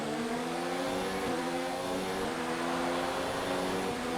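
A Williams Formula 1 car engine in the F1 2019 racing game screams at high revs, a steady, sustained whine with its pitch shifting slightly through gear changes, loud and continuous, with no voices.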